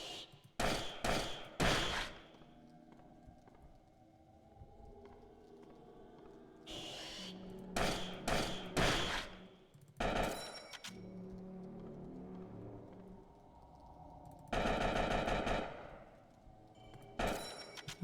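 Repeated bursts of gunfire in the horror video game Spooky's Jump Scare Mansion, quick clustered volleys of sharp shots separated by quieter stretches of ambient game sound, with one longer, louder burst near the end.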